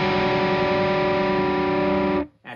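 Distorted electric guitar chord with an added F sharp rings out thick and sustained, loud and close, then is abruptly cut off near the end.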